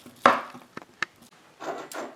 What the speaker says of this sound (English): I'm going to keep slicing until all this is sliced